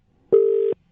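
A single steady electronic phone tone after a dropped call to a chemist, loud and close, lasting under half a second before cutting off cleanly.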